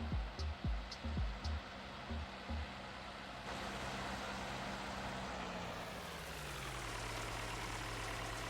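Vehicle engine in Farming Simulator 19, a low idling rumble with a few quick revving bursts, then a steady drone whose pitch gradually drops as it settles.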